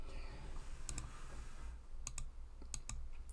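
Quick pairs of sharp mouse clicks, one double click early and a few more clusters later, sound close and crisp over a faint background hum while a virtual tabletop for Dungeons and Dragons is being used; no one speaks.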